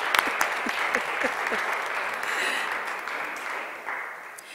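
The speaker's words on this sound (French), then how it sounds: "Je vous invite à vous lever et à nous acclamer tous" A congregation at a Eucharist celebration at a Marian sanctuary breaks into steady, dense applause that fills the space, with a few sharper claps near the start and the clapping easing slightly toward the end.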